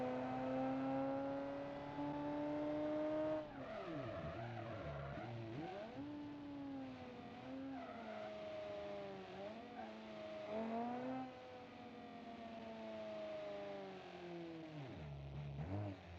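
A wheelie drag racer in BeamNG.Drive accelerates in third gear on a drag strip, its engine revving loudly in rising sweeps that repeatedly bog down and recover, with no talking.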